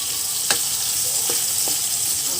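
Water spinach (kangkong) frying in a pan with garlic, onion and chili for adobong kangkong, a steady, even sizzle throughout with a few faint clinks of a utensil, close up and no talk.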